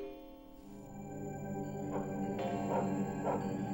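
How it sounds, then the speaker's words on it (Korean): A dog barks and yips at night in a quiet residential setting in Jinhae, South Korea, a few short barks rising toward the end, moderately distant and alone. "밤 12시가 넘으면은 이제 개가 짖더라고요."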